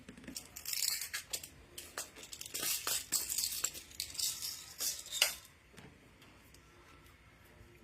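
A mixing ball is dropped into a container of varnish for stamping, giving a run of light clattering rattles and clicks that peaks in a sharp knock, then fades to near silence.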